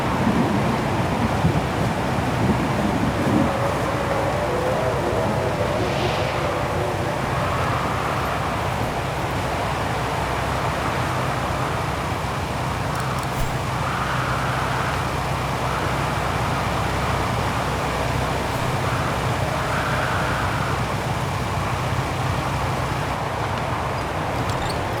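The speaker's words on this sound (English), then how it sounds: "Brrr, that bloody storm." Blizzard in the Vaghen Mountains in the game Syberia: The World Before: a steady, dense roar of wind and blowing snow lasting the whole stretch, with faint gusting swells rising now and then and no voices.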